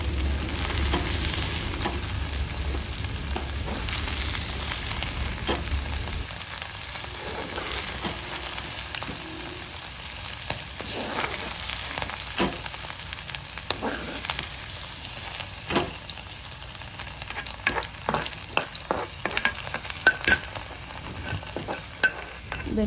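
Okra (lady's finger) frying in a pan fills the scene with a steady close sizzle, joined by intermittent scraping and stirring knocks from a spatula; a low rumble in the first few seconds then drops away.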